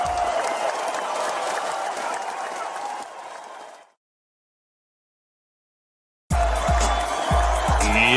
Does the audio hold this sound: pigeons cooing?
no